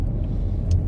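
A car drives along a quiet rural gravel road, heard from inside as a steady, close low rumble of tires and engine, with no talk.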